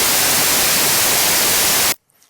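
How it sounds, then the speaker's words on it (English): Noise oscillator of a Mela 5 synthesizer hisses as steady, loud broadband static for about two seconds, then cuts off abruptly into near silence. "And we have also a noise oscillator if you want to do"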